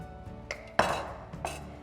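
Bread and butter pudding dish going into a preheated 160 °C oven: faint clinks of a dish set down, then a sharper metallic clatter and a final knock, quiet and close.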